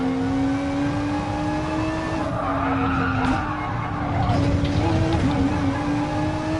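Low-grip 200-horsepower race cars in GT Sport skid and squeal their tires around a circuit, engines droning and shifting pitch throughout, with a voice talking over the racing.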